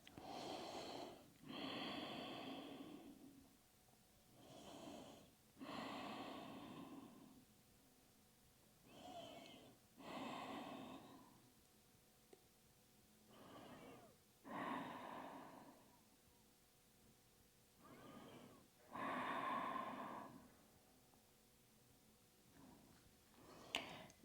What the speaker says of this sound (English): Taking deep breaths.